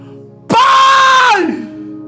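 A preacher lets out one long, loud, sustained scream that holds steady before dropping off, delivered alone without other talk.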